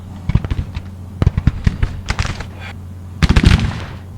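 Artillery and rifle fire in the Civil War video game Grand Tactician: The Civil War, sharp irregular bursts of shots and booms in quick clusters, fairly loud and close, with a pause before a final dense volley.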